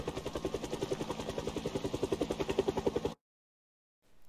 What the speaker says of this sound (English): My first encounter with the helicopter.